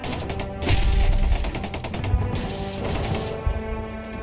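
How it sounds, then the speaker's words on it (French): A replica MP40 submachine gun fired in full automatic, rattling bursts of rapid shots with rumbling echo, loud and near, several bursts in quick succession, no voices. "Là, on a tiré en automatique"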